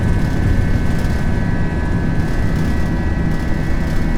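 An Airbus A320 rotating on its takeoff roll in the Prepar3D v5.4 flight simulator, a loud continuous engine roar with a steady high whine held throughout.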